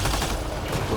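Turret gunfire in Mass Effect: Andromeda, a dense, loud burst of rapid overlapping shots and impacts filling the whole second.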